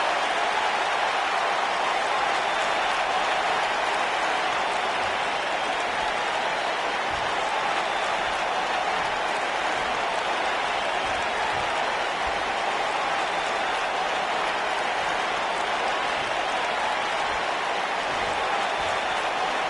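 Sold-out arena crowd in the WWE 2K19 wrestling game applauding and cheering at Money in the Bank 2019, a dense, steady roar of clapping and crowd noise running continuously at even loudness throughout.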